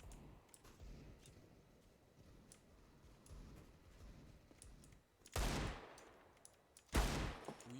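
Gunfire in the video game Counter-Strike: faint scattered shots early on, then two loud, close bursts of firing near the end, with no talk over them.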